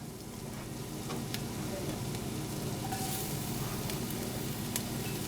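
Garlic sizzles steadily in about two tablespoons of hot olive oil in a pan, a continuous close frying crackle with a few sharper pops and no talking.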